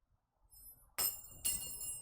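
A metal ring strikes a hard surface in a drop-ring magic trick, giving two bright, ringing clinks about half a second apart in a quiet room.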